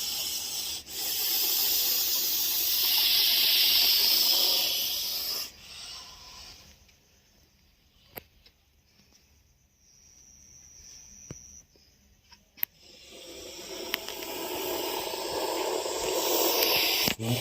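A snake hissing loudly at close range in two long, harsh, breathy bursts separated by a quiet pause broken by a few small clicks, with no voices.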